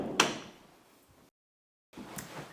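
A door opens with a sharp knock and latch click followed by a sliding rumble, then a brief silence and another soft bump as doors swing open into an ensuite bathroom, close by and without talk.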